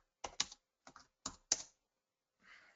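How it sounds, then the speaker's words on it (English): About five sharp keystrokes on a computer keyboard come in an uneven burst, close and crisp against silence, followed by a soft rustle. "my typing stinks tonight"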